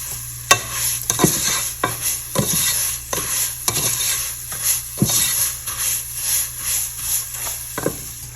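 Vermicelli frying in a pan, set against a steady bright sizzle, while a utensil stirs and scrapes with a dozen quick, regular knocks against the pan. No voices.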